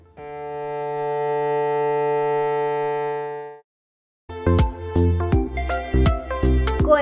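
A cello's open D string bowed as one sustained, steady note that stops, followed by a piano passage.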